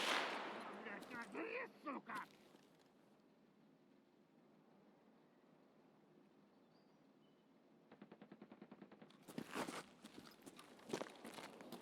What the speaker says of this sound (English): He's shooting somebody else.